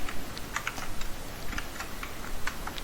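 Rapid keystrokes on a computer keyboard while code is written, a close, continuous run of light clicks with uneven rhythm and no talking.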